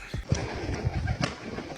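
A pigeon coos in a short series of low, throaty calls, close and fairly loud, with no one speaking.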